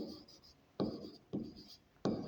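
Chalk or marker strokes on a board during a class 10 statistics lesson, three short scratchy bursts spaced apart, with quiet background between them.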